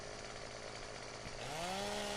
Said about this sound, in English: I will point my chainsaw down, and then I will just nudge it back up.